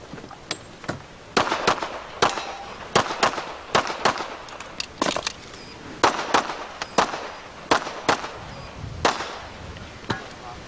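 Sharp gunshots crack out at a USPSA pistol match stage in cold weather, more than a dozen in quick irregular bursts of doubles and singles, loud and close with a brief echo after each.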